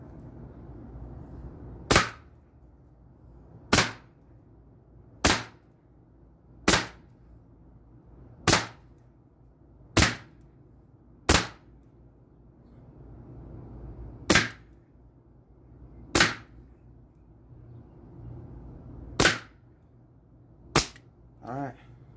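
Thirteen sharp, loud shots from an AEA air rifle, a .25 and a .357 caliber, fire pellets into a metal front door, each crack standing alone at irregular intervals of one to two seconds over a quiet background.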